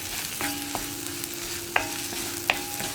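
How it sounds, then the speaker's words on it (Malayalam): Masala with Kashmiri chili powder, regular chili powder and garam masala sizzles in a pan for a hotel-style kadala curry, a steady frying hiss broken by a few sharp scraping stirs of the spoon. "ഇത്രയും ചേർത്തിട്ട് വീണ്ടും നമ്മൾ ഈ മസാല ഒന്ന് വഴറ്റിയെടുത്തുകൊണ്ടിരിക്കുക"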